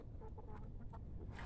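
Chickens cluck softly inside a garden chicken coop, a few faint, scattered calls over a low background rumble.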